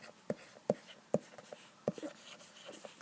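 A pen or marker writes labels onto a diagram of the heart's internal anatomy, heard as a few quiet, close scratchy strokes and taps spaced irregularly over a faint background.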